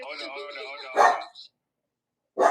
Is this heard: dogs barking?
yes